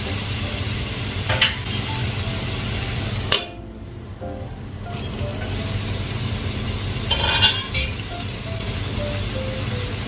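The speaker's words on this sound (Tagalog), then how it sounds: "lutuin lang natin konti yung kamatis niya" Tomato simmers and sizzles in a pan with garlic, onion and ginger, a steady frying hiss with occasional stirring clinks, a brief lull in the middle, no voices.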